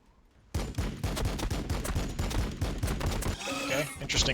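Rapid bursts of gunfire in Warhammer 40,000: Battlesector's Tyranids versus Blood Angels battle, plasma guns and bolters firing at Termagants in a dense, loud fusillade of overlapping shots and booms, ending in brighter high-pitched effects.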